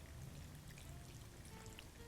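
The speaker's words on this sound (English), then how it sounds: "we're gonna take some apple cider vinegar and we're gonna fill this up about halfway in the" Apple cider vinegar pours into a mason jar of shredded carrots in a soft, steady trickling stream, faint and close, with no talking.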